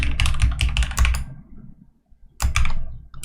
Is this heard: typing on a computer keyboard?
yes